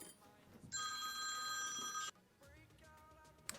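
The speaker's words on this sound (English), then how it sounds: "I got a phone call and had to get it." A telephone bell rings once in a single bright burst of about one and a half seconds, moderately close, in a quiet room.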